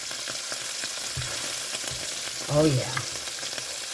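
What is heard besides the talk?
cube steaks sizzling in frying pan as they are flipped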